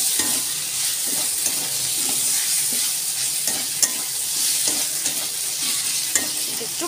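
Tomato goes into frying onion, ginger and garlic for a spicy mutton curry. A steady sizzle runs under rhythmic spatula stirring and scraping in the pan, close by, with no talking.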